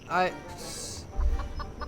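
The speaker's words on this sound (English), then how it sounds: "Mere seconds later, it attracted the attention of the curious chicken." A curious chicken in the game Foolish Mortals gives a short run of clucks, followed by a soft thud and a few faint, spaced clucks, with a voice also heard.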